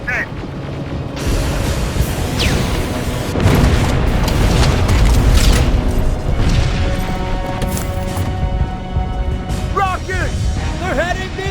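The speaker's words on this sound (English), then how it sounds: "Rockets! They're heading this way!" Incoming rockets exploding in the game Terminator Resistance, loud rumbling booms and bursts layered with dense battle noise and whistling streaks, with a voice shouting over the chaos.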